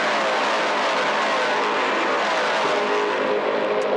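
Race cars tearing around The Bend Motorsport Park, a loud, dense engine roar with rising and falling pitch as the field pours into the first turn, sustained for a few seconds with no other sound.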